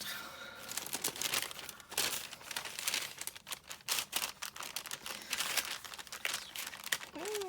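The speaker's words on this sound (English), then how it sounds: "Oh, doesn't want to come out of the package." Crafting supplies in plastic packaging crinkle and crackle as the package is pulled open by hand, with irregular bursts of close, sharp rustling that continue throughout.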